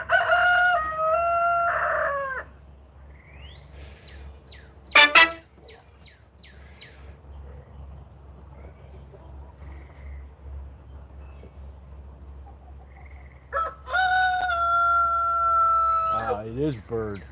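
A rooster on a small farm crowing in long, loud drawn-out calls at the start and again near the end, with shorter squawks between, over a low steady background hum.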